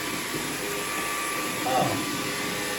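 A LEVOIT LVDC200 cordless vacuum cleaner with an anti-hair-wrap head hums steadily and close throughout. Its motor whine rises briefly near the end as it passes over something.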